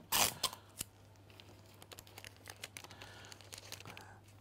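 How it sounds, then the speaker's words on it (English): Strip of tape torn off and pressed onto kraft paper to hold a wrap in place: a sharp ripping burst, then a few soft crinkles and light taps, close and quiet, with no talking. "we just add a little bit of tape at the top just to hold in"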